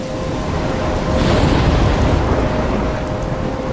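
Storm in the video game Life is Strange, a dense roar of heavy rain and wind with a low rumble of thunder swelling in the middle, loud and continuous throughout.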